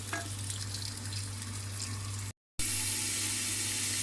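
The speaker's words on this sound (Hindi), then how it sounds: "आप लोग देख लें कि चिकन लहसुन अदरक के पेस्ट के साथ भून रहा है" Chicken browning in garlic ginger paste in a home kitchen pan gives a steady, soft sizzle with faint stirring scrapes and a low background hum, briefly cut by a moment of silence before the frying resumes, no voices.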